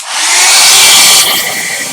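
A hair dryer used as a heat tool blows a loud, steady broadband rush of air close by to dry gesso, holding for the whole stretch with a slight drop in intensity near the end and no talking.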